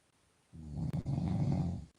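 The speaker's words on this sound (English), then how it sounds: "He's definitely snoring." A sleeping man snores in one long, rough inhaled snore, fairly faint and close, following a brief quiet moment.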